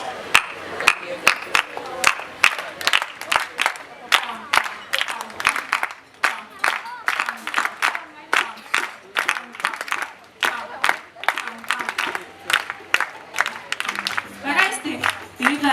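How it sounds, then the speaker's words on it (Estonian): A group at an outdoor festival claps together in a steady rhythm, sharp, evenly spaced hand claps ringing out over crowd noise and scattered voices for the whole stretch. "Igal juhul meil tuli juba päris hästi grupi plaksutamine välja."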